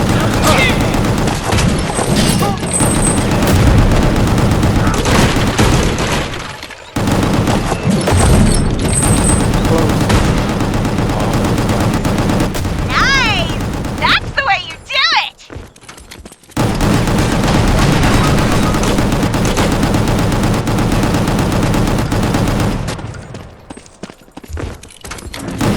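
Heavy gunfire from an ultimate demolition shot in GunGrave G.O.R.E. on PS5, a dense sustained barrage of shots and blasts that runs loud for most of the stretch, broken by two short gaps, with game voices mixed in.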